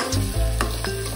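Chicken curry is stirred in a sizzling pan, a close, loud frying crackle with quick scraping strokes of the spoon against the pan; no one speaks.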